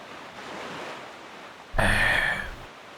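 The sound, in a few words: ocean waves while sailing in the video game Wind Waker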